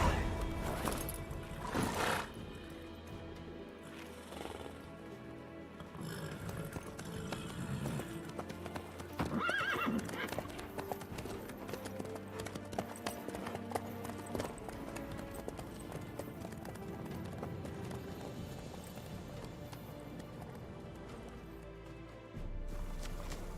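Horse hooves clip-clop steadily in The Witcher 3, a continuous trotting rhythm with occasional whinnies and game ambience layered over it, with no talk.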